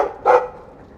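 A single short dog bark from a dog in the Dragon Age 2 video game, one clear, close, mid-loud woof standing alone.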